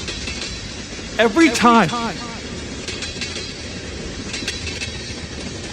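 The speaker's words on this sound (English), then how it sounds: "I hear a train in my ear" A passing train heard through a rail cam feed makes a steady, even rumble with faint clatter that runs throughout, while someone briefly talks over it near the start.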